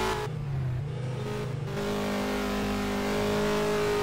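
A car engine accelerates hard on a race track, a loud, close and steady roar climbing in pitch through the gears.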